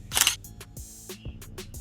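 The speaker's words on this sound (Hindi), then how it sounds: "let the camera click it" Sony a6400 mirrorless camera on self-timer with a Sigma 56mm lens, firing a crisp shutter snap followed by a scatter of small clicks and handling taps, close and fairly loud, no voices.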